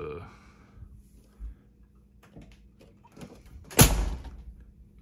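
A Foxbody Mustang car door shuts once with a solid, close thud after quiet shop background with a few faint knocks. A low voice is faintly present early on.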